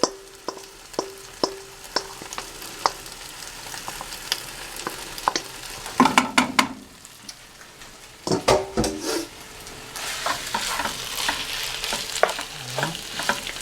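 Marinated beef sizzles and fries in a pan for Asian-style beef, with repeated clacks of a utensil stirring and scraping, the sizzle growing louder and denser toward the end.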